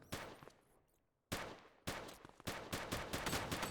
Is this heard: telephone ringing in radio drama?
no